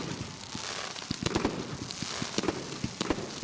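Fireworks at a midnight New Year countdown at the Burnie Carnival crackle and pop in scattered sharp bursts over a steady crowd-like wash, moderately distant and irregular.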